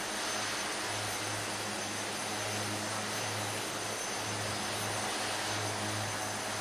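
Cabin engine noise of an Aerosoft Twin Otter in a flight simulator: a loud, steady drone with a low hum that holds evenly throughout, with no talking.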